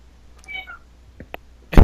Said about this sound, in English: my cat apparently wants attention